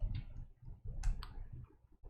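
Rapid keyboard typing clicks, close and fairly quiet, in irregular bursts over a low background hum.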